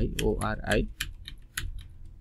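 Keys on a computer keyboard clatter in a short run of quick taps while someone talks over the first part, then a few separate clicks follow.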